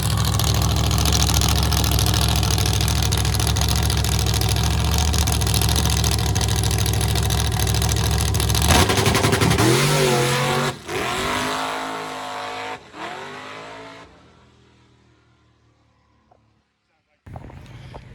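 Mike Finnegan's drag car Blasphemi roars at a loud, steady high-revving drone, then surges through several sharp rev changes and drops to quiet before firing up briefly again near the end.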